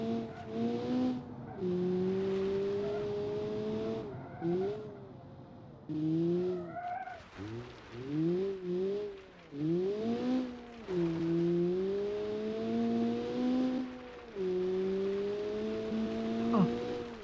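A video-game car with a locked differential drifts continuously, its engine droning and swooping in pitch as the tires squeal through long slides, loud and close with no talk.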